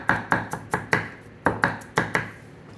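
A knife slices sweet pepper on a cutting board for pizza, giving about ten crisp, close chops in an uneven quick rhythm, with no talk.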